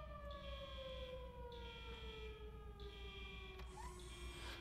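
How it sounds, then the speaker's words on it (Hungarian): A wailing alarm siren from the video game Robocop Rogue City, with steady sweeping tones and a repeating pulsed pattern sounding continuously over a low background hum. "Közben szól a riasztó."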